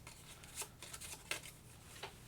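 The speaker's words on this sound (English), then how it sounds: "Shuffle them up and then I'll roll." A deck of cards for a tabletop board game being shuffled by hand, several soft riffling bursts close by but quiet, with no voices over them.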